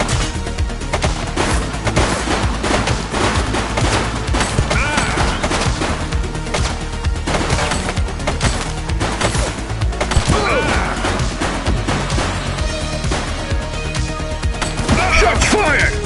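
Rapid gunfire in the police video game The Precinct, dense bursts of loud cracking shots and sharp impacts repeating throughout, with brief clattering hits layered over a constant background.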